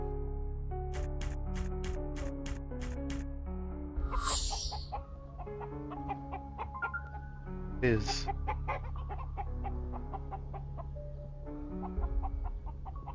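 Chickens cluck in a dungeon crawler video game, short repeated clucks over a looping musical background with chimes, a brief spoken word in between.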